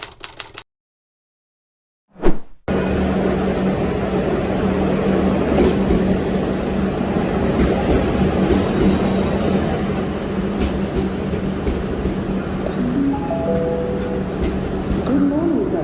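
A refurbished Comeng electric train of Metro Trains Melbourne, EDI rebuild, rumbles steadily from inside, with a constant motor drone, rattling carriage noise and faint wheel squeal, after a brief silent gap and a single thump; a voice is heard near the end.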